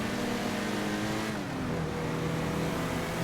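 A Übermacht car's engine revs in GTA 5 Online, a steady, loud, mid-pitched engine drone that dips briefly and climbs again as the car accelerates, with no talk over it.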